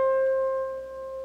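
A single harp C string is plucked during tuning and rings as one sustained, clear tone that slowly fades, alone and close.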